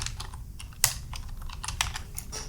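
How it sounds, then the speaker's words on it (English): Close keyboard typing of a short terminal command, a quick irregular run of clicking keystrokes with a few sharper key hits standing out. "Now you have to type the command npm run build"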